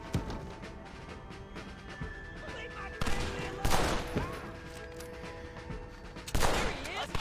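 Gunfire in Red Dead Redemption, steady background shooting with three loud bursts of close, overlapping shots and fusillade at intervals.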